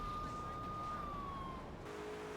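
Police car siren in GTA 3 during vigilante missions, a sustained wailing tone that slowly drops in pitch, heard faintly and at a moderate distance, then shifting to a lower steady note.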